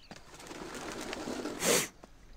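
Pigeons in the video game Hitman, with a soft bird call and a brief louder flutter or coo near the end over quiet background ambience.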